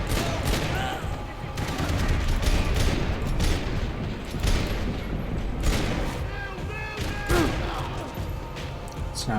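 Gunfire in Max Payne 3, with a dense, steady spray of overlapping shots and heavy impacts that keep up almost without pause. Occasional crashes and booms break through the firing.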